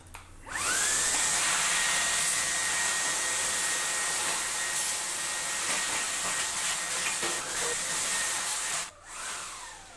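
A Dreame T10 cordless cyclone handheld vacuum cleaner with a removable battery runs steadily and loudly at close range, a high whining motor tone holding nearly the whole time before a brief dip and restart near the end.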